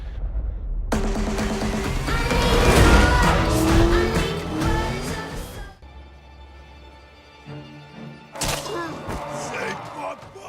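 Cars racing in Forza Motorsport 7, roaring engines and tire noise with heavy impacts and a dramatic music bed, loud throughout and dipping briefly before surging again near the end.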